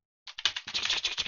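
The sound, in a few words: imitated typing on a computer keyboard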